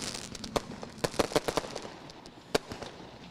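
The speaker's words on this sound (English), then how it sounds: "Lone Wolf fireworks lighting up the sky here as we get ready to go" Lone Wolf fireworks pop and crackle in the night sky at a speedway victory celebration, a scatter of sharp bursts, some louder and several faint, spaced irregularly and heard from some distance.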